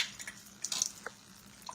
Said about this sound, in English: My jar's filling up.